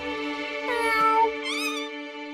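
A cartoon cat in the video game Just Crow Things lets out a long, loud, drawn-out meow, rising and wavering into a second whining cry, clear and alone without speech.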